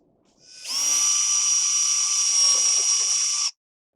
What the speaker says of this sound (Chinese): 在你要锁螺丝的地方预钻一个8mm的孔